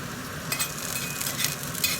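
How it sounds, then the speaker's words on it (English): Spicy potatoes roasting in a pan give a steady, close sizzle with stirring and scraping as they are turned over, the crackle holding fairly even throughout with a few brighter bursts. "we're going to turn it all over and continue to roast the other side"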